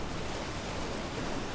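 A waterfall in Elden Ring roars as a steady, dense wash of rushing water, loud and unbroken for the whole stretch, with no voices.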